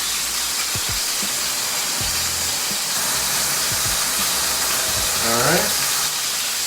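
A chicken caprese sandwich sizzles and hisses steadily as it is pressed flat on a hot surface, with a few soft knocks along the way; a voice speaks briefly near the end.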